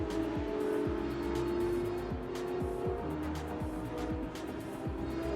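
GT race cars at Sepang International Circuit roar past in a loud, sustained engine drone with rising and falling whines as several cars go by in turn.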